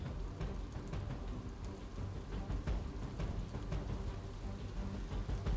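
Heavy monsoon rain pours steadily in Valsad district, in a dense, unbroken hiss, loud and close throughout with no voices.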